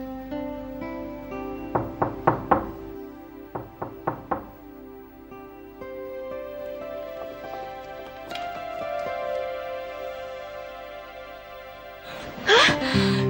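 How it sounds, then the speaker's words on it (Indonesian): Knocking on a door comes in short bursts of sharp raps, a quick group of three or four and then a second group, over a soft musical background. A clatter follows near the end. "Ada yang ngetok pintu."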